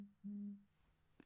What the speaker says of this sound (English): that was just my phone's notifications